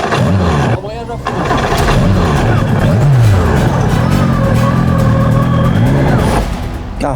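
A race car engine cranking and revving loudly up close, then faltering as it stalls, with someone talking over the engine noise.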